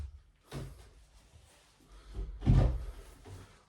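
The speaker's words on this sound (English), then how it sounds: "Close the door, Sam." A door in an empty gym closing: soft knocking and shuffling thuds, then a heavier close-by bang as it shuts, with no talking.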